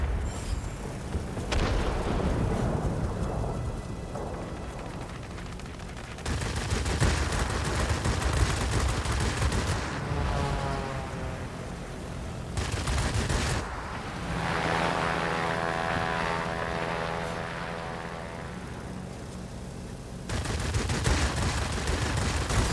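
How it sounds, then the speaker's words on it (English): The Me-410 heavy fighter drones with a steady propeller engine through a flight combat game, broken by several long, dense bursts of rapid gunfire. The whole stretch stays loud and continuous. "right now I'm flying, well, this plane used to be the meta at Tier 6"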